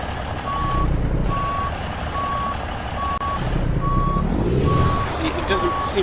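A truck in a driving video game backs up a trailer, its reversing alarm beeping in a steady, evenly spaced rhythm over a low diesel engine rumble, with a brief hiss and clatter toward the end.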